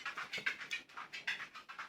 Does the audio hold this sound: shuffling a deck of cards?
no